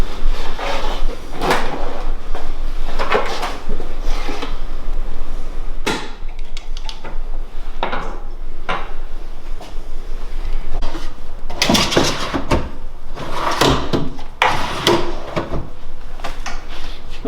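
Wooden kitchen cabinet pullout drawers slide open and shut again and again, each movement a short sliding rumble ending in a thud, over a steady background noise.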